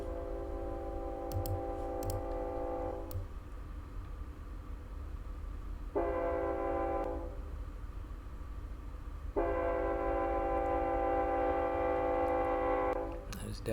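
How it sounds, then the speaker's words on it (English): A train in Run 8 Train Simulator on a BNSF local job sounds its horn in three long blasts, the third longest, over a steady low rumble of rolling cars with occasional clicks. "Don't know where it's at, but that is a train."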